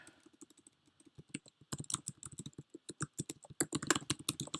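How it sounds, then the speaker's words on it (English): Computer keyboard keys clicking in a fast, irregular typing burst, close and fairly loud, growing busier toward the end, with no talking. "Sorry for the clicking."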